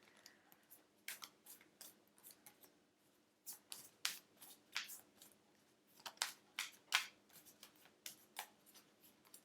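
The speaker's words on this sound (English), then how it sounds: "I'm just going to pull the cards and put them first" Tarot cards are shuffled and pulled in a quiet room, giving sharp, papery snaps and swishes in irregular bursts, some close and crisp, with quiet gaps between.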